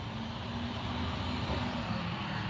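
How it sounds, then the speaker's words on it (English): A garbage truck rumbles along a road near a rest home, its low engine drone steady and fairly distant throughout, with no speech. "We got the garbage truck."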